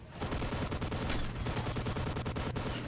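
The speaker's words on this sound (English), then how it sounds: "the shooting's not very accurate either" Rapid bursts of video game gunfire, dense and loud, repeating in quick volleys throughout with no talk over them.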